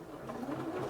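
A Singer Quantum Stylist 9960 sewing machine running a short tacking stitch at the start of a seam: a brief, steady mechanical whirring hum close by.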